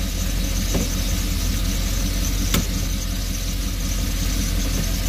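An RV engine runs steadily in drive as it works up through the gears, a constant low rumble with a faint high whine and one brief squeak partway through, no talk over it.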